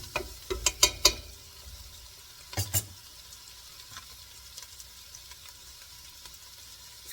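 Jerk cabbage with sausage, bacon and shrimp cooking in a pan over medium heat, a soft steady sizzle with a few sharp clattering stirs early on and another pair of scrapes midway.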